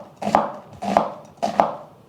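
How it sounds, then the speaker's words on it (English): Half an onion sliced from top to bottom with a knife on a board, three crisp, evenly spaced cuts heard up close. "We also have 1/2 of an onion that I'm just going to slice"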